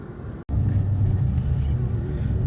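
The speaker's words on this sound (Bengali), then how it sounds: "এখন আমরা হাইওয়ে দিয়ে যাচ্ছি" A car drives on a highway near Chicago's Monte Carlo Plaza, heard from inside as a loud, steady low road rumble with a brief dropout near the start.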